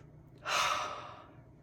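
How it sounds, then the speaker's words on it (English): Breath drawn in sharply through the mouth, then released in a longer, softer passive exhale, close and alone. "2 inhales and a passive exhale"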